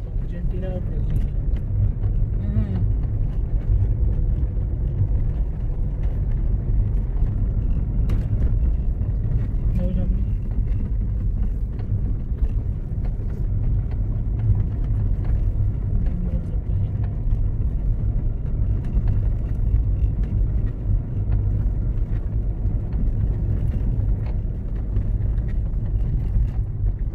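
Steady low engine rumble and road noise inside a car moving through city traffic on a drive from Bangalore to Wayanad, continuous throughout with faint scattered sounds.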